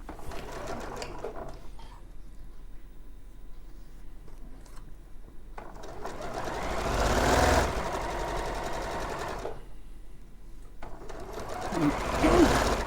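A flatbed quilting sewing machine runs in several bursts with a steady mechanical whir and rapid stitching chatter, rising louder for a few seconds in between, while people talk at times.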